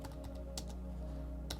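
Typing on a computer keyboard, a handful of sharp separate keystrokes with short gaps, close and moderately loud over a steady low electrical hum.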